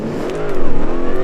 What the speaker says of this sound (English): We need to do a burnout